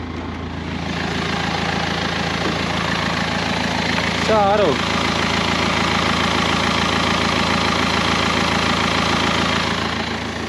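A 1963 Volga car engine idling unevenly, a steady low mechanical rumble with a faint irregular lope, heard close with a brief voice speaking over it partway through.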